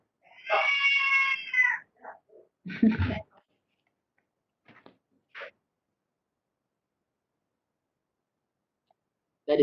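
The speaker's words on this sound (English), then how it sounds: "my cat is outside meowing." A cat meows outside in a long, drawn-out, whiny call, followed by a couple of shorter, fainter mews and scattered soft clicks and rustles, in an otherwise quiet indoor room.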